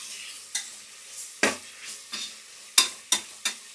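Tomatoes frying in a pan for village-style goat head curry: a low, steady sizzle broken by sharp spoon strokes and scrapes at uneven intervals, close by.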